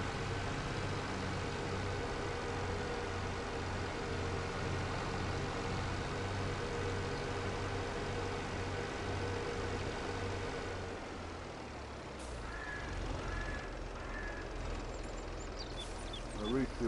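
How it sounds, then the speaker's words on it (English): A tractor engine idles in Farming Simulator 22 with a steady low rumble, cutting out near the end and leaving faint clicks. "This tractor needs a bit of fuel,"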